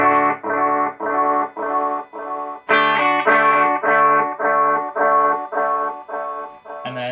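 Repeated distorted guitar notes pulse rhythmically, each carrying a warbling octave vibe effect from a multi-stomp on the delay repeats, clear and alone with no talking.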